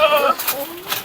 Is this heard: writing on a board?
no